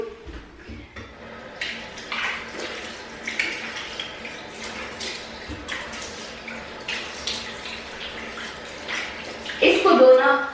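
Tap water runs and splashes in a sink while a face is rinsed during a morning skincare routine, steady trickling with intermittent splashes, close and moderately quiet, louder splashing near the end.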